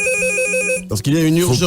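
Bright electronic ringtone from a red phone in a radio studio trills for under a second, loud and near, before a presenter's voice takes over.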